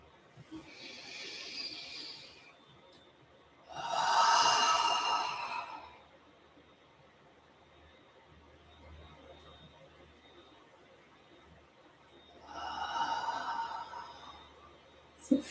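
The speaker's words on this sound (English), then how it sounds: "So finish your last cycle of that breathing" Slow yoga breathing during a gentle session: long, airy inhales and exhales come in three separate swells, each lasting a couple of seconds, with quiet pauses between them. The breaths are close and soft, and no one speaks.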